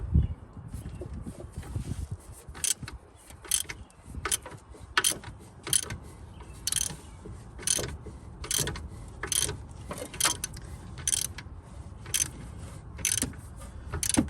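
Ratchet wrench tightening the alternator tension bolt on a 1989 Dodge Dakota, a repeated series of close, crisp clicking bursts at a steady, slightly uneven rhythm, with no talk.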